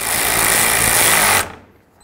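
A power tool tightens a 10 mm bolt while replacing the lower radiator hose on a 2008–16 Chrysler Town & Country: a loud, steady buzzing rattle close up for over a second, then it cuts off abruptly.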